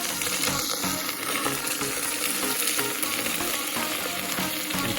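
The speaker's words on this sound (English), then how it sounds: "Turned on my burner, chopped my zucchini, and sausage, and also add just a little bit of oil." Chopped zucchini and sausage frying in a little oil on a camp burner, a steady close crackling sizzle with fine popping, no voices.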